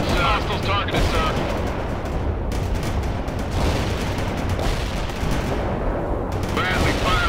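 A Bradley armored vehicle fires in the World in Conflict video game, with dense, continuous rapid gunfire and blasts filling the whole stretch while radio voices talk over the battle.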